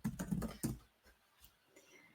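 Fingers type on a computer keyboard, a quick close cluster of soft key clicks followed by a few sparse, fainter taps.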